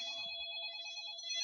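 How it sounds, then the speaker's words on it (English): A cell phone rings with a bright, electronic multi-tone chime, sustained and clear for a second and a half. "Had to answer the cell phone real quick."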